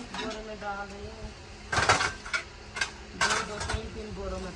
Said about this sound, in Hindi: ये बर्तन जो है ना एक बोरे में डाल रही हूँ